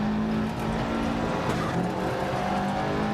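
Rally car in Dirt Rally 2.0 on a Greek gravel stage: a loud, continuous engine roar with gritty tyre and skid noise underneath, steady and close throughout.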